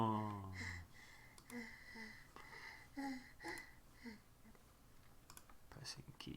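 Computer keyboard keys are pressed in scattered, quiet clicks, up close but faint, with soft voices heard in between.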